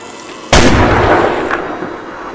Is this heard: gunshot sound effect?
yes